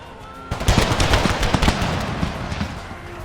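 Massed musket volleys crackle in a video game battle between Mexican Empire troops and Republican rebels, a dense burst of overlapping shots erupting after a quiet start and rolling on loud and close.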